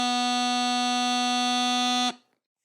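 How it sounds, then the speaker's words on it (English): A bagpipe chanter plays one steady B note, a piercing reedy tone sustained for roughly two seconds and then stopped cleanly, heard alone with no talk. "B sounds like this."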